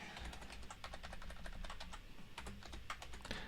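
Rapid, uneven keystrokes on a computer keyboard, close up and steady for several seconds, with a few louder clacks near the end and no voices.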